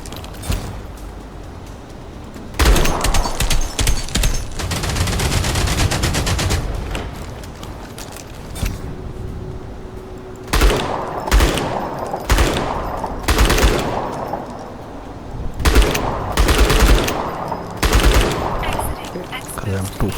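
Rapid bursts of automatic gunfire from the player's weapons in the sci-fi shooter Outpost Infinity Siege, loud, close volleys repeating in clusters with mechanical clanks between, some game sounds layered over.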